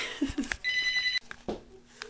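A household telephone rings with a bright electronic trill of about half a second, set between brief clatters and rustles of kitchen activity while vegetables are being prepared for juicing; no speech is heard.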